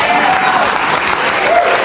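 A studio audience at a Bill Maher show applauds in a loud, dense burst of clapping that fills the whole moment, with a few voices mixed into the crowd.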